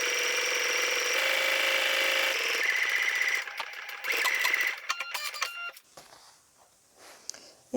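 A sewing machine stitches coated fabric for a pouch, starting with a back-stitch: a loud continuous whirring run that breaks into choppy stop-start bursts and then fades to quiet handling noise.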